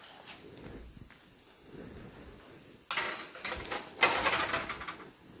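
A tray of vanilla crescent cookies is slid into an oven set to 350 degrees, making two short metallic clatters against a quiet room.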